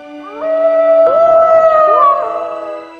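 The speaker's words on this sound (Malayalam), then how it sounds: "ഇത് പട്ടിയാണല്ലോ കുറുക്കനെ പോലെ കൂവുന്നു." A cartoon dog howls like a fox: one loud, drawn-out, wavering howl that rises and bends in pitch before trailing off, heard alone and up close.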